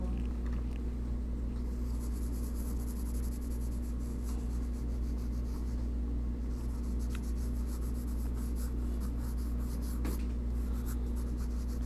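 Pencil scratching steadily across a sheet of paper during an art class sketch study, a continuous close rubbing texture over a low room hum, with no talking.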